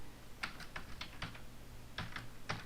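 Typing on a computer keyboard, clusters of quiet, crisp key clicks at an uneven pace, heard close up over a faint low hum with no talking.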